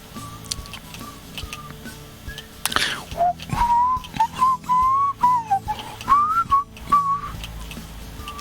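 A person whistles a wandering melodic tune, close and clear, starting after about three seconds of quiet room noise and continuing in short connected phrases with small pauses.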